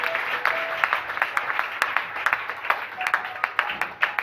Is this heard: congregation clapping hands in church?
yes